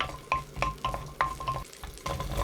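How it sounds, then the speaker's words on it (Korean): Eight garlic cloves stir-fry in two spoonfuls of cooking oil, a steady close sizzle broken by repeated scraping knocks of a spatula against the pan at an uneven rhythm. "식용유 2스푼에 마늘 8개 넣어 대충 볶아요."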